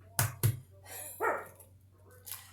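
Two sharp, loud barks from Bella, an 8-pound toy poodle, close by in a home kitchen, followed by a softer yip or whine and faint rustling.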